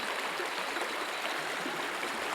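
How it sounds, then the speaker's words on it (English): A shallow, low river flowing over many rocks beside a small natural weir, a steady close-up rushing and burbling that holds constant with no voices. "the river's quite low just now, so there's a lot of rocks in the river"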